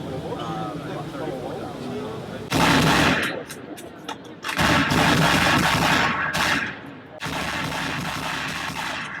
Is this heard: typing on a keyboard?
no